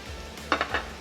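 Beef sizzles on a hot cooking plate as it is pushed around, with a steady soft hiss broken by three quick metallic clinks of a utensil against the plate.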